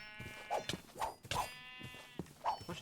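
Sheep bleat repeatedly in Minecraft (RLCraft), several short nasal calls spaced across a few seconds, close and fairly loud, mixed with light game sound effects and no speech.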